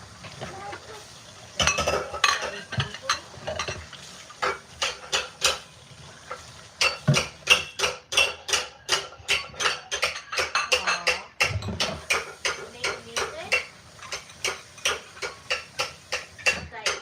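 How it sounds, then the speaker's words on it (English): Dishes and pans clatter while being washed in a kitchen during Thanksgiving baking, with steady irregular clinks and knocks of metal and crockery continuing throughout, moderately close, and a faint voice now and then. "Yeah, she's doing it too. Doing dishes."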